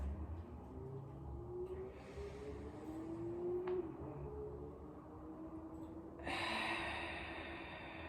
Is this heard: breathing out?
yes